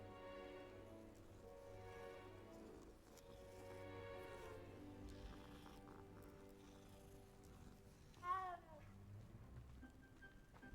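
A cat meows in the video game Hogwarts Legacy, a short faint mew rising over a steady layer of game music and ambience, with no talking.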